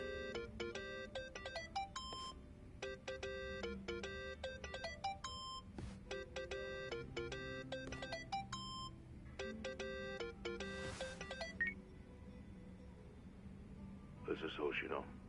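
Repeating electronic ringtone melody in Yakuza: Like a Dragon, phrases looping steadily over a low game backdrop before cutting off near the end, followed by a brief burst of other sound.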